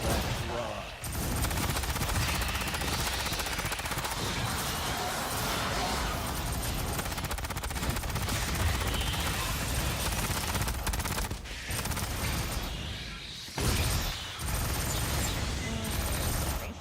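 Continuous gunfire in the Aliens: Fireteam Elite video game, a dense, loud wall of rapid shots running almost unbroken for over sixteen seconds with only a few short pauses.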